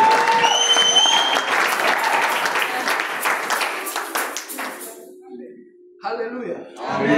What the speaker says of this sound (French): Can you please applaud the Lord?